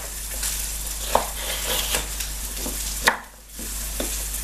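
Chopped celery goes into a hot frying pot and is stirred, giving a steady sizzle broken by a few sharp scrapes and knocks of the utensil against the pot, close and alone.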